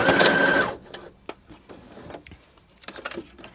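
A sewing machine stitches through many thick layers of fabric in a short, loud, close burst of under a second, followed by quieter scattered clicks and knocks from the machine and handling.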